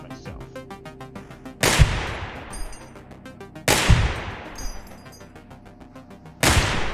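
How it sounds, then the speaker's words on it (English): Three loud, sharp gunshots from a handgun in the video game Receiver II, spaced a couple of seconds apart. Each crack is followed by a long decaying echo, with faint mechanical clicks and game ambience between shots. "I have just shot myself"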